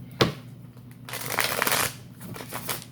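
Tarot deck being shuffled by hand: a sharp riffle snap at the start, then a longer rustling shuffle of stiff cards, close and clear with no talk.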